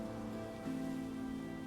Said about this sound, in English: Beneath the curtain of the rain, she seems to see her sister's silhouette dancing familiar steps in the rain.